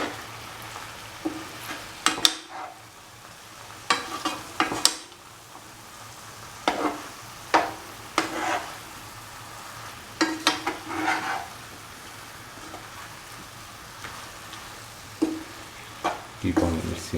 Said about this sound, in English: Mix the vegetables and the oil and the curd and the coconut green chili mixture together